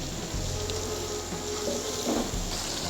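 Chicken korma gravy simmers and sizzles in a pan, a steady close frying hiss with soft bubbling pops throughout, no voices.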